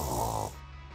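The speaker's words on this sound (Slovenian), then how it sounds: "Neža, smrčiš." A person snoring at close range, one loud rasping inhale with a low rumble that fades into quieter breathing.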